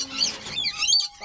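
Close, sharp bird chirps and high tweeting notes, bright and quick, with a thin sustained whistle near the end.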